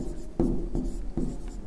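A teacher's chalk strikes the board in a physics class, three firm taps spaced at an even rhythm and heard up close in a quiet room.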